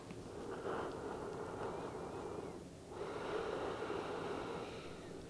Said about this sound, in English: moving your breath in and out of your nose